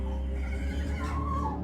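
A horse gives a short whinny over a steady low background rumble, one brief neigh rising and fading within a couple of seconds.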